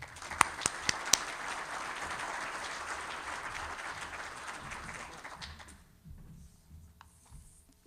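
An audience claps to welcome the Dean of Engineering and Computing at the FIU/MIT Transportation Infrastructure Sustainability Summit, a few sharp early claps building into steady applause that fades out after about six seconds, leaving a quiet room.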